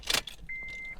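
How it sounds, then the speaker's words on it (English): In an Acura TSX Tech Package, a quick clatter of keys and an ignition click are followed by a steady electronic chime tone, heard up close in the cabin. "when I turn my car back on now"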